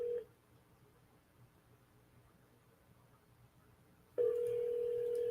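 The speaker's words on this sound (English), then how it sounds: "I can't find the phone. I hear it, but I can't find it." A misplaced phone rings with a steady electronic tone that sounds briefly, goes quiet for several seconds under faint room noise, then comes back louder and continues.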